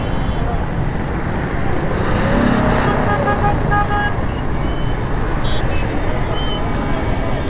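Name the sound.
heavy traffic jam on a Karachi street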